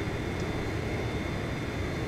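Steady, unbroken drone of aircraft engines in the Ace Combat 5 combat flight game, a broad constant roar holding at even loudness throughout with no voices over it.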